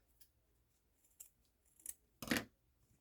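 Scissors snip through popsicle-stick craft material in a few quiet, close cuts, with two small clicks and then one sharper, louder snip near the end in an otherwise quiet room, no talking.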